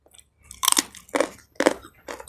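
Raw jengkol eaten with papaya stems, chewed in close, loud crunchy bites that come in several separate bursts with short quiet gaps between them and no talking.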